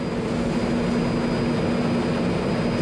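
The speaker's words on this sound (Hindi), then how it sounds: "वायुसेना के विमानों ने एडिनबर्ग के ऊपर से फ्लाई पास्ट निकाला" Nine British air force planes fly low in formation over Edinburgh, a steady, loud, continuous jet roar with a broad rumbling drone and no voices.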